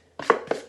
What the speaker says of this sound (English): scrape all the sides to get as much mixture out of that bowl as you can